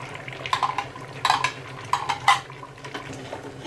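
Yogurt being stirred into fried masala and beef in a pot for nihari: a spoon scrapes and clanks against the metal in several short bursts, with a soft sizzle underneath and no talking.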